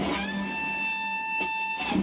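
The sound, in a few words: electric guitar string bend at 15th fret, E string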